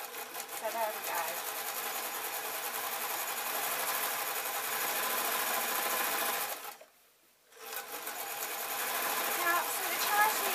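A sewing machine stitching a satin apron with piping runs in a loud, steady, rapid whir, halts briefly for about a second, then starts up again.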